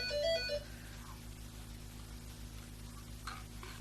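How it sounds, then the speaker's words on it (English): A home telephone rings briefly at the very start, short electronic trills lasting about half a second, faint against a quiet indoor room hum that continues afterward. "So I've got a nice quiet household, and then all of a sudden the phone rings."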